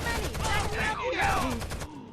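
Dense bursts of automatic gunfire from the shooter game Rainbow Six: Vegas 2 rattle continuously in a chaotic firefight, with overlapping shots and faint voices mixed into the fire.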